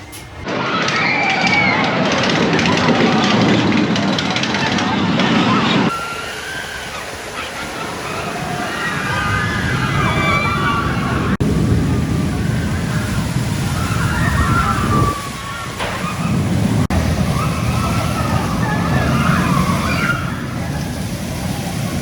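Revolution ride at Blackpool Pleasure Beach during a late-night visit, heard as a loud, continuous rush of wind and clattering track noise with muffled crowd and voices mixed in, steady for most of the stretch.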